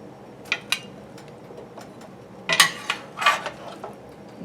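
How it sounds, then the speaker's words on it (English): Cooked onions for Japanese curry are scraped from a pan into a Dutch oven, giving a few metallic clinks and scrapes of utensil on cookware, sparse at first, then a louder cluster. "I'm transferring all this to a Dutch oven."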